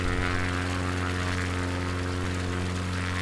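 Steady drone of an XCub small propeller airplane engine in flight over the Black Hills of South Dakota, a constant loud hum with a strong engine buzz and rushing air, heard from inside the cabin with no talk.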